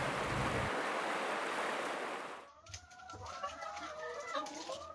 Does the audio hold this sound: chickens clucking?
yes